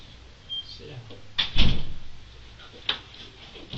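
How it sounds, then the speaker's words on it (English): A door swings shut indoors with a single dull thud in the middle, followed by a lighter knock, while people talk quietly around it. "Close the door."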